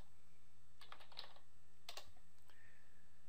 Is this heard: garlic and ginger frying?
no